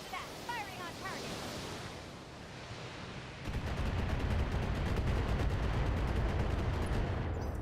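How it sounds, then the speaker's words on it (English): Mech weapons fire on a turret in the BattleTech video game, heard as a dense, loud, sustained barrage of rapid crackling shots and rumbling impacts that kicks in midway after a softer ambient stretch. "Firing on target."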